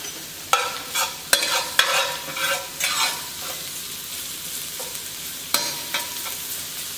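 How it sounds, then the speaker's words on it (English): Garlic sizzling in oil in a pan while a spoon stirs and scrapes, giving sharp knocks at irregular intervals over a steady frying hiss, close and clear with no voices. "Add the garlic now just so that it can flavor the oil"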